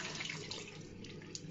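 Water pours steadily from a tap while a face is rinsed, a soft continuous splashing rush with small irregular spatters, close by and fairly quiet.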